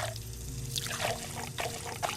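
Water poured from three cups in a puzzle video game, a soft continuous trickle and splash running through the short moment, close and fairly quiet over a faint background hum.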